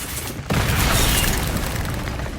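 A Confringo explosive spell bursts in Hogwarts Legacy: a brief hush, then a sudden loud boom that rolls on as a thick, rumbling blast filling the rest of the moment.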